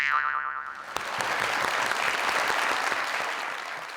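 Studio audience at a live comedy talk show breaks into loud, sustained applause that swells after a brief musical sting and continues steadily to the end.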